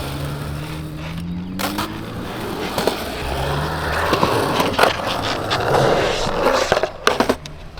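Skateboard on Spitfire Formula Four 93 soft slider wheels rolling over pavement, a steady gritty roar with clacks and scrapes, growing louder toward the end with no talking.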